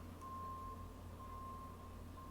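A truck's reversing alarm beeps steadily in a quiet background, a faint, evenly spaced electronic tone repeating over a low rumble, with no voices.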